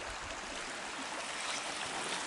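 A river with its ice fully open, water rushing and hissing in a steady, dense broadband wash, close and continuous with no breaks and no talk.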